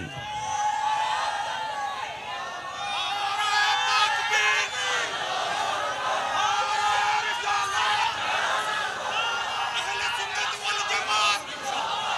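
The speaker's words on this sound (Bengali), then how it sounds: "আমার সাথে কে কে আছেন হাত তুলে স্লোগান লন" A crowd at an open-air sermon gathering in Chattogram raises its voice in unison, chanting slogans in a dense, sustained roar of many voices that swells and stays loud throughout.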